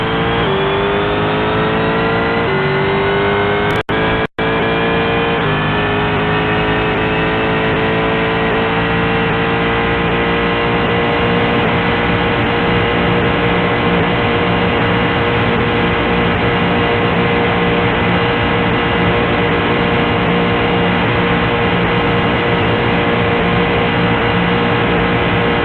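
A Corvette engine in a racing video game holds a loud, sustained tone, with a brief sharp click near the start, then drones steadily and evenly for about twenty-five seconds.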